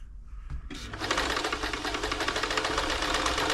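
A New Home 641 sewing machine runs a steady straight stitch, its needle hammering in a fast even rhythm after a brief start-up click, loud and close throughout.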